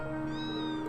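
A single drawn-out meow from Felix the cat in the video game Trails of Cold Steel III, close and clear, with a bright wavering tone over a steady game background and no talk.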